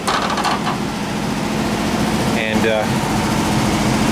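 A 1967 VW bus engine idles with a steady, loud mechanical drone and whirring fan noise, while someone speaks briefly over it.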